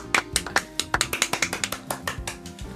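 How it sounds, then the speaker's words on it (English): A rapid run of about fifteen sharp knocks on wood, close and fairly loud, spaced irregularly like knuckles rapping, with no talk over them. "Got a knock on wood by whoever that was."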